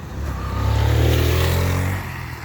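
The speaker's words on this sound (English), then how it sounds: "this is traffic heading to the city" Morning traffic on a road in Providence heading toward the city, with a car passing close by. Its engine rumble swells loud for about a second and then fades into steady background traffic noise.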